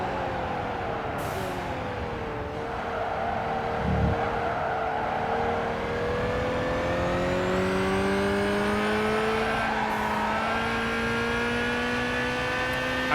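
Racing cars roar through Gran Turismo 5, a steady engine drone with rising and falling revs as the car accelerates and shifts, rival engines close behind, and a brief low thump midway; no talk.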